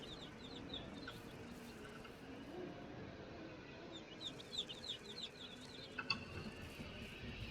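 Chickens cluck in Ranch Simulator, a video game, with scattered short clucks over a steady outdoor farm background that grow busier and louder toward the end.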